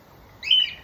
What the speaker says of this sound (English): You're beautiful birds.